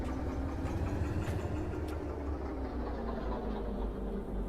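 Two diesel locomotives in the Derail Valley train simulator roll forward with a steady rumbling engine drone and low track noise, heard continuously at close range.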